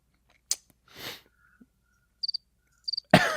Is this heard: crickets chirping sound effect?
yes